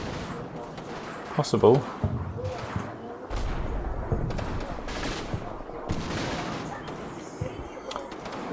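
Scattered gunfire in a World War II strategy video game, a mix of distant pops, rattling bursts and dull booms spread unevenly through the clip, with someone talking over much of it.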